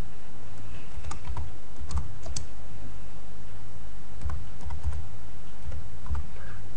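Keystrokes on a computer keyboard typing a short entry for a new desktop Fences box, arriving in a few quick bursts of clicks separated by pauses, close and clear with no voices.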